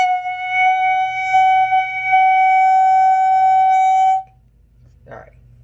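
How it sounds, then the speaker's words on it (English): A clarinet mouthpiece and barrel, blown on their own with a firm embouchure, give a single steady, piercing F-sharp tone held for about four seconds before cutting off, followed by a brief soft breath noise. "we're going to take our mouthpiece and barrel and we're going to blow"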